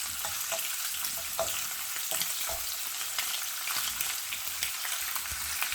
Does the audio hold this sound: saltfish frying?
yes